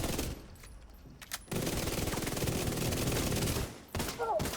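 Video game gunfire, rapid automatic bursts rattling loudly for a few seconds after a short pause, with a few isolated shots before and a faint electronic tone near the end.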